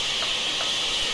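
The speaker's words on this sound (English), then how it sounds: "Start pushing steam out through our exhaust." Steam hissing from the exhaust of an LNER K1 2-6-0 locomotive in Train Simulator Classic, a steady broad hiss held evenly throughout with faint low rumble beneath.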